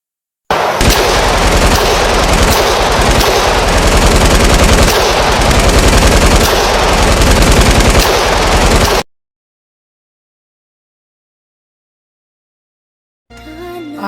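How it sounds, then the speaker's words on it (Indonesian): A loud, close battle of machine-gun fire and rapid gunshots in a sound effect, a dense continuous rattle with heavy thumps for about eight seconds, then sudden silence, followed by a brief return of sound near the end. "Desingan peluru meriuhkan suasana, ditambah lemparan granat yang bertubi-tubi"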